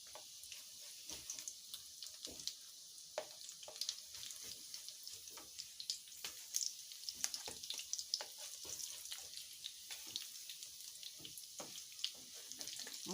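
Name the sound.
mackerel patties frying in a pan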